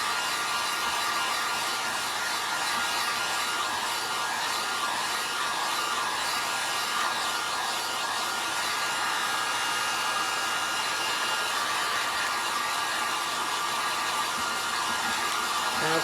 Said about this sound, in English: Okay, so we're just giving it a dry there.